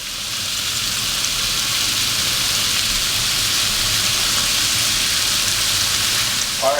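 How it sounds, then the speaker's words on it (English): Fish sears in a pan over medium heat for fish tacos, with a loud, steady, close-up sizzle and crackle that continues evenly without a break. "you want to let it kind of sear 2 to 3 minutes, medium heat, yeah?"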